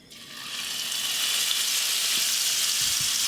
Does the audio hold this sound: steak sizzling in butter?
yes